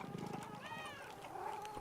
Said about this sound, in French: Un petit chat.